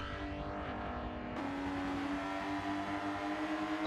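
Race car engine from a racing video game at Monza, a steady, fairly faint whine that jumps to a higher pitch partway through and then holds as the car drives on.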